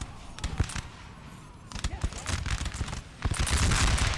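Musket line volleys and artillery fire crackle in the Napoleonic Total War 3 video game, dense bursts of popping shots in waves that build louder toward the end, with a voice talking over them.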